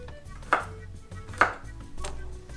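Two garlic cloves being chopped with a knife on a cutting board, with three distinct blade strikes spaced roughly a second apart, close and clear with no talking.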